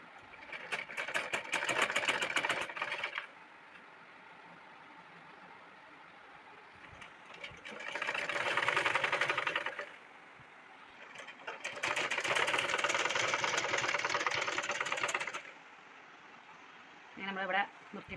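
Sewing machine stitching the open and sleeve seams of a collared abaya gown, running in three loud bursts of steady whirring separated by pauses, with a brief sound near the end.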